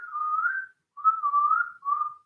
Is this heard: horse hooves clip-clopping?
no